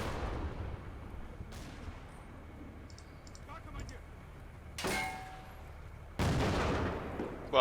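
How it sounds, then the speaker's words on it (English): Gunfire in the Combat Mission: Blood on the Snow war game, with a few sharp broadband cracks and blasts at irregular intervals over a low rumbling background, the loudest shots near the end. "at least they're going to carry on shooting at that a little bit"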